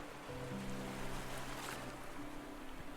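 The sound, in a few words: ocean waves sound effect from a video game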